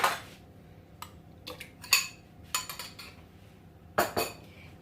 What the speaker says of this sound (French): J'ajoute ici 140 g de mascarpone